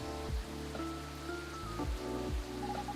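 Gentle rain ambience in the café game Coffee Talk, a soft continuous patter under mellow background music, steady and even throughout.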